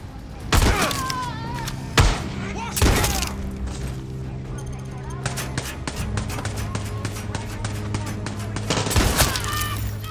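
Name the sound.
gunfire in the video game Far Cry 6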